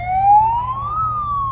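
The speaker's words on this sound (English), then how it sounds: "There's a siren, but I believe that's the megaphone." A siren wails from a megaphone at a club baseball field during a lights-out outage, one loud rising sweep that levels off and holds steady, with low rumble beneath.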